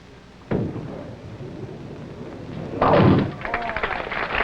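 At a 1969 professional bowling tournament, a ball thuds onto the lane and later crashes into the pins for a spare, a dull impact followed by a louder clattering burst amid crowd murmur and commentary.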